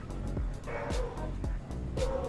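A pet dog barks nearby in repeated short yips and woofs, about four sharp bursts in quick succession over a low steady background hum.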